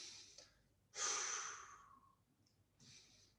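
A single long exhaled breath during a guided breathing exercise, soft and airy, rising suddenly and fading over about a second, followed by a fainter breath near the end, with no voice.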